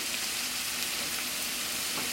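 Onions caramelize in oil in a hot pan, giving off a steady, dense sizzle that hisses continuously at close range with no voices over it.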